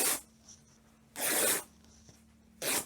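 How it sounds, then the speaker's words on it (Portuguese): Fabric strip torn by hand for a dress ruffle, two sharp ripping bursts about a second apart with a third starting at the end, close and fairly quiet with soft rustling between. "então eu vou rasgar outro exatamente no mesmo tamanho"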